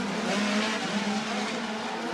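USAC midget race cars roar around the dirt oval at Merced Speedway, a steady loud engine drone with a sustained pitched whine as cars run toward the front straightaway.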